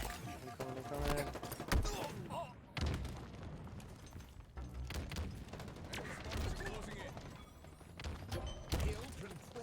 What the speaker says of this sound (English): there's a lot of grenades popping off